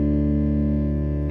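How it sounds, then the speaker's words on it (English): A bass guitar's open D string rings in tune against a sustained D drone, a thick, steady, unwavering tone with no beating, heard alone and without talk. "if I play that D string against the drone, it'll sound like this."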